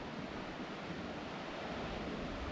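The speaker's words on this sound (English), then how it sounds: "I'm going to listen to those waves crash throughout the night." Lake waves break somewhere below a wooded hiking trail, heard as a soft, continuous wash of surf. Faint wind noise blends into the distant roar.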